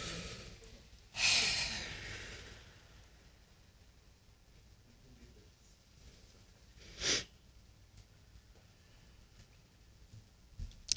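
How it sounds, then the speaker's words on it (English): Slow deep breathing in a quiet church service setting: a strong breathy inhale or sigh early on, a long hush, then a second shorter breath several seconds later, close and without talk. "would you breathe with me?"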